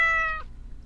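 A house cat gives a single short, clear meow up close that cuts off abruptly, followed by quiet low room hum.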